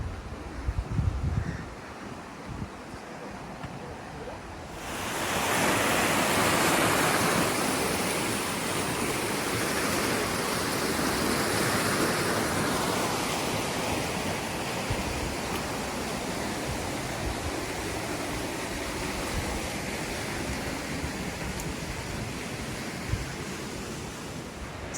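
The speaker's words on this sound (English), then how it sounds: "The water is running very fast though, so I think it's a bit dangerous." Fast-running floodwater roars in a steady, broad wash close by, starting abruptly and staying loud and unbroken, with no voices.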